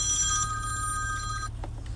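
An old-school telephone bell rings loudly and steadily, then stops abruptly partway through, leaving only low room hum and a couple of faint clicks.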